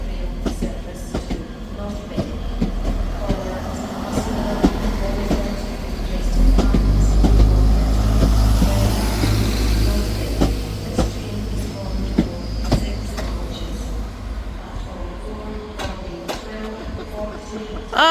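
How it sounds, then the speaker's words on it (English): A ScotRail passenger train pulls out of Edinburgh Waverley station on its way to Perth, with a steady rumble of engine and wheels that swells midway, plus scattered clicks and squeals of the rails, carrying on without any talking. "departing out now is the 12:35 Scotrail service starting here at Edinburgh Waverley to Perth"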